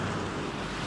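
Large ocean surf surges continuously close by, a thick roar of breaking water mixed with wind rumble on the mic, without any talking.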